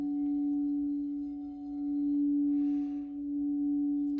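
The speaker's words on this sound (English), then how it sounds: "This is a beautiful crystal singing bowl of smoky quartz in a D note." A smoky quartz crystal singing bowl tuned to D rings with one pure, sustained tone. It hangs steady and clear with a faint hum underneath and swells gently in loudness partway through.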